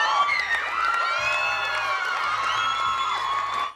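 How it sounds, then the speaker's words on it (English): An audience rises in a standing ovation, cheering and whooping loudly with high excited shouts over steady applause, a dense continuous roar throughout. "She got that standing ovation"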